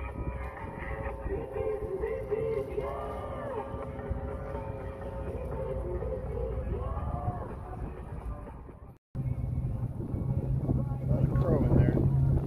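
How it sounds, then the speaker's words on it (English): Strong wind gusting at an outdoor street rod show, a loud steady rumble and buffeting across the microphone that fills nearly the whole stretch, with a brief dropout before it resumes even harder. "the wind's blowing so hard"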